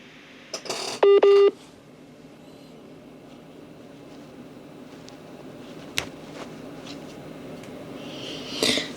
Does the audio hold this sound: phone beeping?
yes